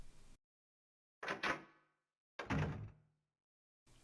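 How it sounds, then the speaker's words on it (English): A door in the 1999 PlayStation game Silent Hill, unlocked with several keys, gives two heavy clunking thuds about a second apart, each ringing briefly into silence, followed by a short burst of noise at the end. "let's open this door up with our Wizard of Oz keys here"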